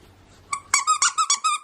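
A squeaker inside a dinosaur dog toy is squeezed about six times in quick succession, each a sharp, high-pitched, close squeak, after a faint rustle.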